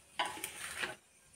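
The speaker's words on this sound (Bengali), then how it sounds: "এই দেখুন বন্ধুরা, এইদিকে আমি দিয়ে দিচ্ছি একটু সোমবড়া, মানে পাঁচফোড়ন দিয়ে দিলাম" Panch phoron whole spices hit hot oil in a pan with a brief burst of crackling sizzle and a light scrape of stirring, lasting under a second before settling to a low hiss.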